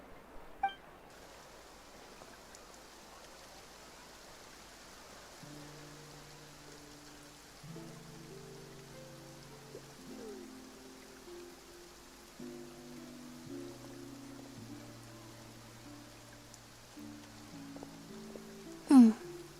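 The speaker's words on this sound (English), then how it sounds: "Looks like rain." Steady soft rain falling in the video game Genshin Impact, a quiet hiss under gentle game music tones, with a brief chime near the end.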